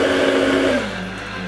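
Blender whirring through hummus with squeezed lemon juice, a loud motor roar that winds down partway through and settles into a lower, steadier hum, with no talking.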